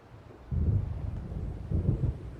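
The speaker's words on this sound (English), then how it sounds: "It seems there's a storm coming." Low thunder rolls in two swelling rumbles from an approaching storm in the video game Alan Wake Remastered, distant and fairly soft, with no voices.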